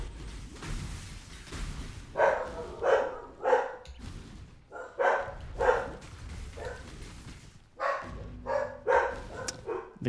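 Several dogs bark in repeated bursts, sharp yapping volleys with short pauses between them, loud and close, in Path of Exile gameplay.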